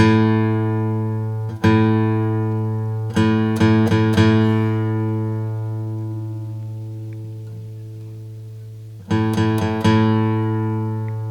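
Open A string of a Martin acoustic guitar plucked several times, each note ringing out with long sustain that slowly fades, sometimes struck in quick repeated bursts.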